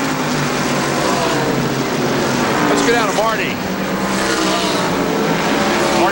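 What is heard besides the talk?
racing trucks on track during a televised race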